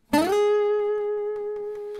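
A guitar slide into the ninth fret on the second string: one pitched note sweeping briefly upward into a sustained tone that rings on close and alone, slowly fading with faint background clicks.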